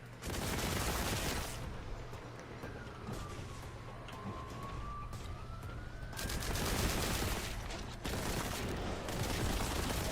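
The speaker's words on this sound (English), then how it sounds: "Even just a standard bolt gun, that's a powerful, powerful pistol" Rapid bursts of bolt gun pistol fire from a Warhammer video game crackle in dense volleys, pausing briefly in the middle before resuming loudly, with a faint siren-like whine gliding underneath.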